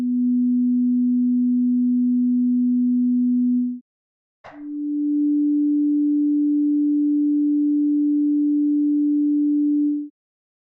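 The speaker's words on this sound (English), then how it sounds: "I'm hearing it fade in with the slower attack time now." A Pure Data synth tone with an ADSR envelope set to a slow attack: a steady pure sine hum that swells in smoothly, then sustains loud and unbroken for several seconds after a brief click, with no voice.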